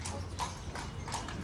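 Horse hooves clip-clop steadily on a Marrakech street, a rhythmic series of moderately loud strikes over constant street background noise.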